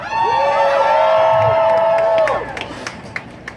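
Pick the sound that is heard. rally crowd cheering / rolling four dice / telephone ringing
rally crowd cheering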